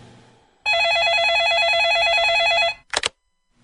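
An office telephone rings in a loud, steady electronic trill lasting about two seconds, followed by a short clatter like the handset being picked up.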